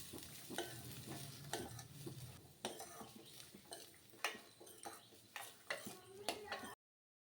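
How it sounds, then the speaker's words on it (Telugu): Carrot pieces and onions frying in oil are stirred in a pan, with a soft steady sizzle under repeated scraping and clinking of a spoon against the pan, fairly quiet and close. "క్యారెట్ ముక్కలు కూడా వేసుకొని మొత్తం అన్నీ కలిసే విధంగా మంచిగా కలుపుకోవాలి"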